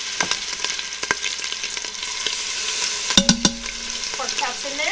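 Pork chops browning in a hot Instant Pot, a steady oily sizzle under a few clicks and knocks of a utensil or lid, with a short metallic clatter near the end.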